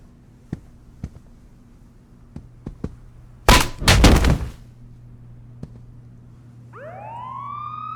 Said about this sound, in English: Sounds like the cops are coming, Mr. Sharp.